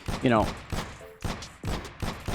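Several sharp gunshot bursts from Call of Duty: Warzone fire at an uneven rhythm, loud and close, with a voice talking over the start.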